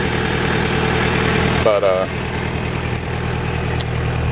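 A JDM Toyota Hilux Surf SSR-X with its 3.0 diesel engine holds a steady idle with the high idle engaged. The note is close and even, and a brief spoken word cuts in partway through.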